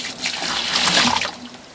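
Water poured out in a steady broadband splash and gush, swelling toward the middle and easing off near the end, close and fairly loud with no talking, set around an off-grid micro hydro Turgo turbine build.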